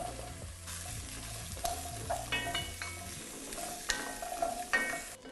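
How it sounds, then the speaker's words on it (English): Carrots sear and sizzle in a pot for a vegan beefless stew, with a steady frying hiss, occasional stirring scrapes and light utensil clinks, no talk. "we're going to add in our carrots"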